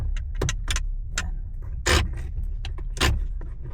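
A steering lock being fitted under a car's steering wheel, with close metallic clicks, clunks and rattling knocks at irregular intervals, including two louder clanks, inside a quiet parked car.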